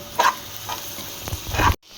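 Onion and green chili frying in a pan for a mushroom curry, a steady sizzle broken by a few scraping stir strokes, close and fairly loud, cutting off abruptly near the end with no talking.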